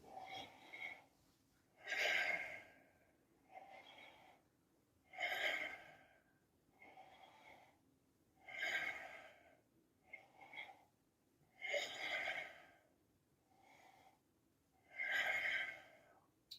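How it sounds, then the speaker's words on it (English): Deep, audible breaths go in and out in a slow, regular rhythm during a yoga plank, roughly every one to two seconds, heavy and close with some nasal snorting. "I'm going to breathe in, breathe out"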